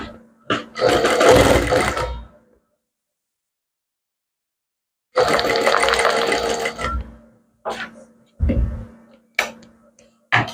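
A sewing machine stitches fabric loops around a deep round blouse neckline in two loud whirring runs, each about two seconds long, separated by a silent pause and followed by short bursts.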